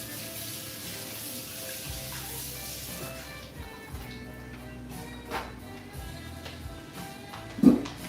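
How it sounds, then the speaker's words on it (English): Tap water runs steadily into a sink while a Vitamix blender is rinsed clean, a continuous close splashing wash with the flow shifting partway through and a sharp clunk near the end. "I'm just gonna wash this one more time so I can leave it extra clean"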